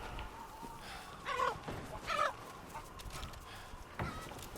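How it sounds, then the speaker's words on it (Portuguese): Chickens in Resident Evil Village cluck in a few short bursts, fairly close, over a quiet ambient background. "Opa, tem galinha aqui."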